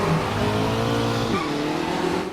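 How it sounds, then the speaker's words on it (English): The Volkswagen engine of a Formula Vee racer in Automobilista, at Guaporé, roars with a throaty, steady drone, its pitch sliding partway through as the revs shift, loud and close with no voices over it. "Mighty throaty roar from the V-dub engine behind me."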